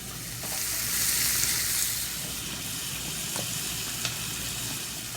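Pancetta and onions fry in a pan with a steady, close sizzle and hiss, brief stirring scrapes and clicks breaking through the crackle.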